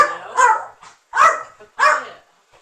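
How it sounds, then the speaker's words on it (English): A dog barks three times in a steady rhythm, each bark loud, close and sharp, with short quiet gaps and faint softer yips in between. "Floyd, I just muted you because the dog was barking"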